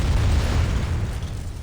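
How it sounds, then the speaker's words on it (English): A loud, sustained boom of an explosion in the video game Reverse 1999, a dense rumbling blast that fills the whole short moment with no voices over it. "A loud explosion interrupts her praise."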